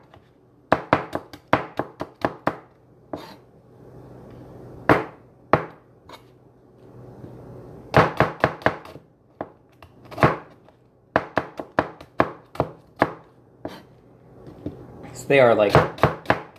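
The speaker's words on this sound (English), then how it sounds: "I'm just chopping them up relatively fine." Small cabbage-like vegetables are chopped with a knife on a cutting board in irregular bursts of crisp, close cuts separated by pauses, while someone talks briefly near the end over some handling clatter.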